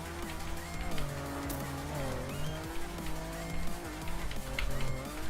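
Desert car engine in the Trackmania racing game revs and shifts continuously, with rising and falling pitch sweeps and bursts of tire squeal, loud and close with no talk.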